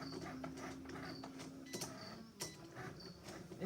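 A Cricut Explore Air 2 cuts cardstock with a quiet mechanical whir, a low motor hum broken by repeated ticking clicks and short carriage movements, heard faintly at close range.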